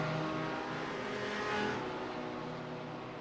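BMW M4 GT3 race car in a racing video game at Suzuka, its engine droning loud and steady with a brief surge in revs mid-way, close and continuous with no talk.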